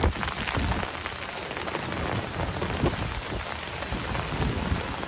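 Heavy rain pours down in a dense, constant hiss while a gale blows, with rumbling low gusts and patter on surfaces filling the whole stretch without a break.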